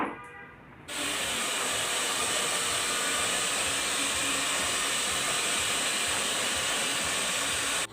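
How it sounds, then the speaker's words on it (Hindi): A hair dryer switches on after a hair wash and roars as a steady, loud, unbroken hiss of blowing air that runs nonstop. "हेयर वॉश हो जाने के बाद ड्रायर चलाया, बाल अच्छे से सूख गया।"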